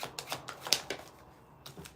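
Tarot cards being shuffled by hand in short riffling bursts, a quick run of papery flutters followed by a pause and a couple more, close and fairly quiet.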